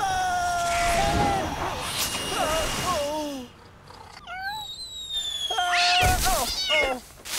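Cartoon cat meowing several times in short, pitched, sliding cries, close and clear, with brief pauses between calls and other cartoon sounds mixed in.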